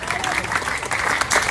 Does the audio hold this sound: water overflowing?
no